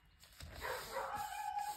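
Dogs at home yap faintly in the background, giving a couple of short, distant barks with a thin whining edge. No one speaks.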